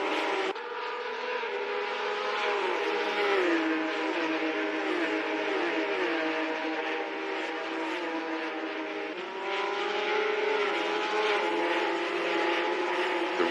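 Simulated race car engines from a virtual racing video game drone steadily at high revs, shifting pitch through gear changes and corners, sustained and even with no talk.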